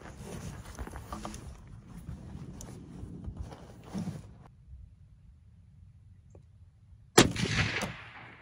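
A single sharp, loud rifle shot from a Tikka cracks out at an outdoor shooting range near the end, after several seconds of quiet ambient rustling.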